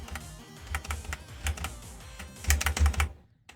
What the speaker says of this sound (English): I was just clicking.